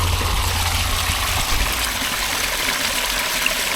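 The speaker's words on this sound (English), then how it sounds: "Now that is a natural spring that's been pumping for hundreds, maybe thousands of years" Natural spring water gushes steadily at Grindleford in the Peak District, a loud, close, continuous rush of flowing water with no break.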